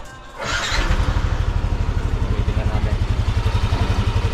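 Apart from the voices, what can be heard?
Yamaha NMAX V1 scooter engine starting and idling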